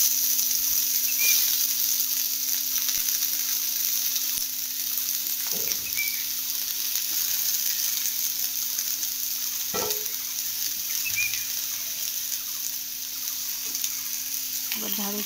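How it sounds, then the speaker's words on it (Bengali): Potatoes frying in hot oil for an okra dish give a steady broadband sizzle throughout, with a constant low hum and occasional clinks of a utensil stirring the pan. "তো তেল ঢ্যাঁড়সে আলুগুলো দিয়ে দিয়েছি।"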